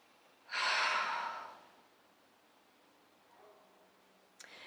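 A deep breath drawn in during an EFT tapping session, one long loud breathy inhale followed by a quieter exhale and a faint rustle near the end, with no talking.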